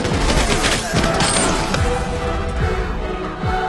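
Dense movie gunfire from the 2002 film Equilibrium: a sustained fusillade of rapid shots and booming impacts, loud and continuous for the whole stretch with scattered crashes, no speech on top.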